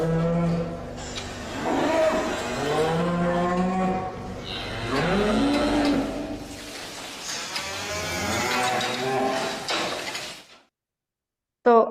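Cow and calf mooing repeatedly from a played video, several long, loud, drawn-out lowing calls running back to back for about ten seconds before cutting off.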